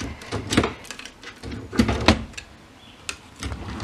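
A wooden drawer in a child's wardrobe is pulled open, giving a few close, short sliding and knocking bumps spread over several seconds in a quiet room.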